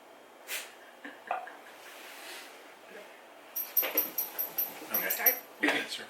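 A dog close by makes a quick series of snorts, sniffs and soft whimpers, clustering in short bursts toward the end, with quiet gaps and faint background noise between them.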